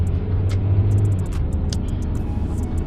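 A car rumbles along the road nearby with a steady engine drone and low road noise, heard from a bicycle, with faint ticking sounds above.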